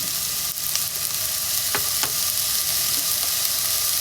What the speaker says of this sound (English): I'm just gonna fry this up a little bit.